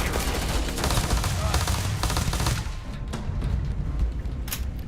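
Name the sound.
gunfire in video game Starfield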